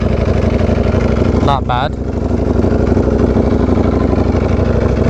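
A Ducati V4R motorcycle engine idles steadily up close, its low, even rumble running throughout while a person briefly speaks over it near the start.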